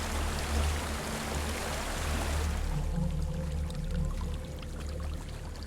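Steady rush of flowing water in Hellblade: Senua's Sacrifice, a continuous broadband stream over a low rumbling bed, fairly loud and unbroken throughout with no voices.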